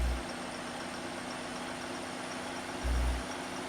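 4755 tractor engine in Farming Simulator 15, a steady low idling rumble with a faint whine, swelling briefly at the start and near the end, with no voices.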